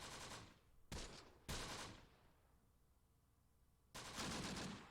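Browning Automatic Rifle bursts in the Close Combat: The Bloody First war game, several short, loud automatic volleys separated by brief gaps and a quieter lull, with no talk.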